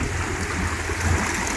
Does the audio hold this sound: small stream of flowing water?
yes